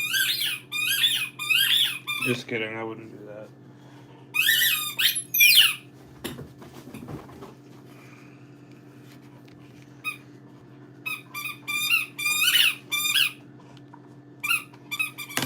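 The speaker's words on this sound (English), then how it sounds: "Somebody might get their squeaky toy taken away." A squeaky toy squeaks in repeated bursts of rapid high-pitched squeals, loud and close, with a steady low hum underneath and a brief spoken remark partway through.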